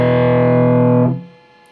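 A single distorted electric guitar strum on strings 4 and 5 barred at the 2nd fret rings loud and sustained, then is cut off abruptly and fades into quiet.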